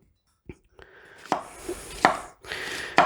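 Knife chopping through the fibrous root end of a peeled vegetable on a board while making tuna salad: several distinct sharp chops, close and crisp, with brief scraping between strikes and no talking.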